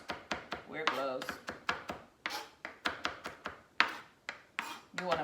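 A knife chops finely and rhythmically on a cutting board, mincing habanero peppers with quick repeated taps close by, and a voice is heard faintly in between.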